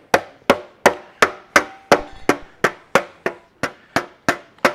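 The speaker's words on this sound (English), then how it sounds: "So this is where the leather slapper comes in handy." A leather slapper strikes an aluminum panel about thirteen times in a steady rhythm, each blow a loud, sharp smack with a short decay, close up and with no voices.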